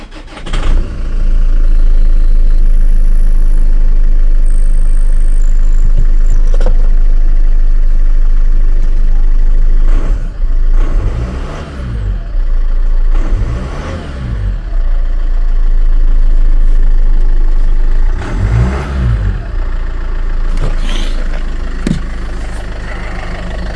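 A Land Rover Freelander 2 engine cranks and starts, then settles into a loud, close, steady idle with a few rev swells, after a throttle body fix.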